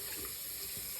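Tap water runs steadily into the center of a shaving brush being rinsed after a shave, a continuous close splashing rush with no talk.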